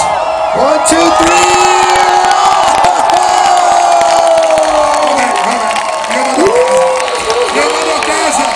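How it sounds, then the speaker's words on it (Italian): A dense crowd at a live event in Ostia screams, whoops and cheers loudly and continuously, with shrill sustained shouts rising and falling and some clapping mixed in. "Voglio solo sentire le urla."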